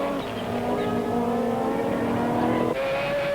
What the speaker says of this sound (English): Just listen to that glorious sounding 4-rotor Mazda engine.